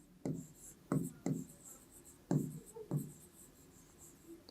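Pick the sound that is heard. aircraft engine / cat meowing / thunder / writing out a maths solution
writing out a maths solution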